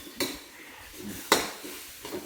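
Basil stir-fry being tossed in a pan, with sharp metallic clanks of a spatula against the pan, two loud strikes and a fainter third, and a light sizzle underneath.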